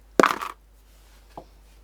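Thread is snipped while sewing a fabric rag Santa Claus: one crisp, close cut, then a fainter click a second later in a quiet room.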